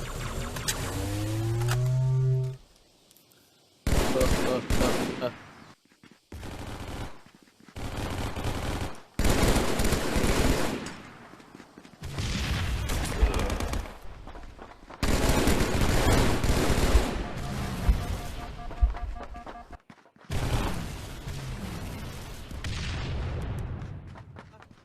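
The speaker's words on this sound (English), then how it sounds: "I'm using the evaporation gun" An evaporation gun fires in a VR shooter game, with several loud bursts of rapid shots broken by short silent gaps, and blasts and booms mixed in.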